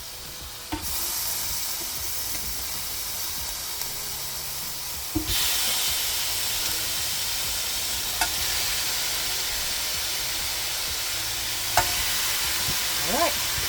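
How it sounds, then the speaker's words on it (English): Pineapple skewers sizzle steadily on a grill heated to 500 degrees, a broad continuous hiss that swells louder partway through, with a few soft clicks and taps of handling over it and no talking. "I'm going to go ahead and put the pineapple skewers on."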